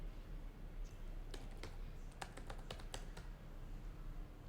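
Text typed on a computer keyboard while coding an Angular 17 app: a short run of light, separate key clicks in the middle, faint and partly buried under heavy constant background noise, with no voice.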